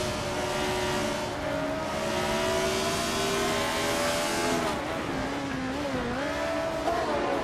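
Race cars in a racing game, including a March 751, hold a steady loud engine drone whose pitch rises and falls with gear changes and throttle, the whine staying close and continuous throughout.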